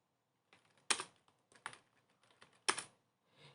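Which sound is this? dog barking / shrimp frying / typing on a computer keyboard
typing on a computer keyboard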